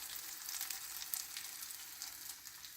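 Quiet, even sizzling of food cooking on a hot plate, a continuous fine crackle with occasional tiny pops and no voices.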